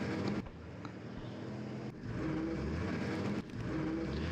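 Motor vehicle engine rumble from trucks and tanks moving in a World War II Eastern Front war game, a continuous droning engine sound with brief cuts, heard alone.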